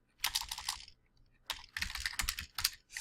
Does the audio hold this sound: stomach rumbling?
no